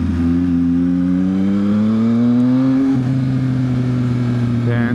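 A 2023 Yamaha XSR900 motorcycle accelerates hard with its quick shifter, engine note climbing, dropping sharply at a clean gear change and climbing again, loud and steady throughout.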